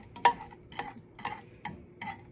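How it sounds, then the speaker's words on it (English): A fork stirs a Twinkie cake mixture over medium heat, giving five light clinking, scraping strokes spaced about half a second apart, close and fairly quiet with no talking. "I just got my fork, just gonna stir it around."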